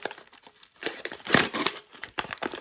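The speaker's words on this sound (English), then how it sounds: "I'll have to rip this open." A mail package holding graded trading cards is ripped open by hand, giving close, loud bursts of crinkling and tearing paper and plastic in quick irregular pulls, with no one talking.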